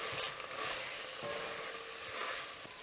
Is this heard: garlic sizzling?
yes